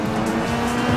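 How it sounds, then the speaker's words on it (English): A race car in the Real Racing HD game on iPad growls past, engine tone shifting with a tire squeal over one continuous burst of engine noise. "even the way that the car moves around the track and how it downshifts and how everything feels"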